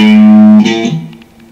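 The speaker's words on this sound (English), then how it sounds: "if I want you to move a semitone," A sustained single guitar note that slides up a semitone, one fret, and then fades out, played alone and fairly loud.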